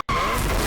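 Car tires squealing in a sustained skid during a drift in NFS Unbound, loud and continuous after a brief silent gap, with a steady high whine over engine roar.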